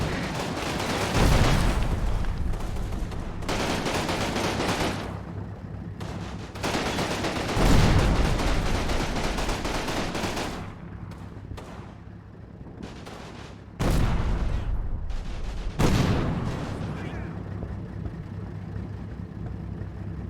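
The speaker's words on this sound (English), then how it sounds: "Now we're getting shot at from that angle. Fire for effect." Game gunfire and artillery from the Normandy wargame Combat Mission: repeated loud booming blasts and bursts of shots come in uneven clusters over a steady low rumble, with no voices.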